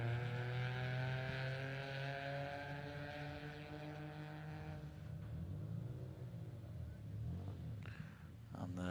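A rally car rounding a hairpin bend on a Toyota Harlech Stages special stage, its harmonic engine note easing off, then a lower rumble as it pulls away, at moderate distance.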